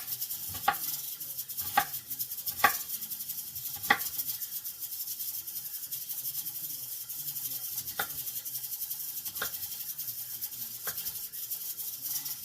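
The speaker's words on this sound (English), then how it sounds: "And on this onion, I'm just doing a rough chop" Knife making a rough chop through an onion on a cutting board: a handful of sharp, sparse taps spread irregularly over a steady background hiss, with quiet pauses between cuts.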